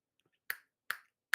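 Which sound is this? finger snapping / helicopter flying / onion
finger snapping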